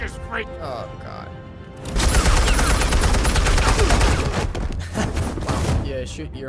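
Bursts of gunfire and loud impacts from the Batman Telltale Series video game, a dense rapid volley after a quieter opening, with voices shouting over the shots.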